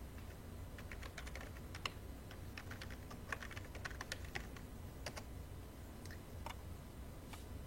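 Continuous keyboard typing while entering a search into Google, with a steady stream of light, close clicking keystrokes and no talk.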